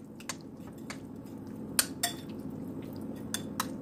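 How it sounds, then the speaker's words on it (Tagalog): Spoon clinks and scrapes in a bowl as tuna salad is mixed with sour cream, a handful of sharp taps spread across a few seconds over a soft, wet background, close and fairly quiet. "Haluin itong maigi."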